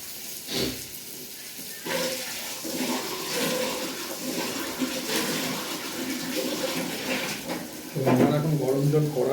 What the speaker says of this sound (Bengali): জল দিয়ে দেবো এর মধ্যে।